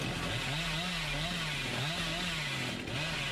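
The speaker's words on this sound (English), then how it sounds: "With a sort of a medium distance chainsaw sprint." In Dead by Daylight, a chainsaw sprint gives a steady, droning engine buzz with a wavering pitch that holds for the whole stretch at moderate loudness. No one speaks.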